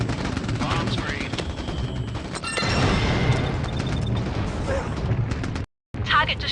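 Bombs exploding on a target in the Mercenaries: Playground of Destruction video game, a loud sustained barrage of rumbling blasts and rapid crackling impacts, building to a heavier roar before a brief gap and a final burst.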